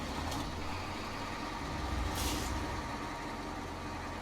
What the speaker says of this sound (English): Turn his engine on.